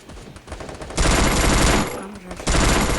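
Vector submachine gun firing in a video game, two long automatic bursts of rapid, loud shots separated by a short pause, with faint talk beneath.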